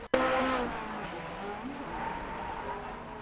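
A Lotus 49 race car at Mid-Ohio in the iRacing simulator loses grip and hits the pit wall: an abrupt impact, then squealing, skidding tires over a steady engine drone, close and loud.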